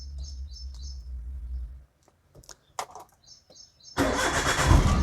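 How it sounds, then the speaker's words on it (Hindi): A car engine cranks and catches, then runs loud and close. Before it starts there is a quieter stretch with a low idle hum, some clicks and faint bird chirps. "तो अभी मैं कार फिर से स्टार्ट कर देता हूँ"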